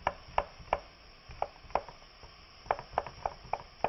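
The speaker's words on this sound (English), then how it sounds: "we're going to slice up an apple" A knife cuts thin slices from an apple on a board, giving about a dozen crisp, close taps in an uneven but steady rhythm over quiet room tone, with no talking.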